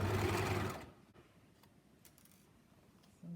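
A sewing machine runs fast while stitching a collar onto a neckline, a steady loud whir for under a second before stopping, followed by quiet fabric handling and a short restart at the end.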